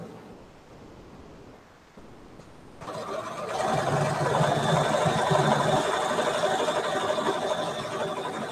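A sewing machine stitching through the thick layers of a knitted sweater bag, starting quietly and then running loudly and steadily for several seconds with a continuous mechanical whir.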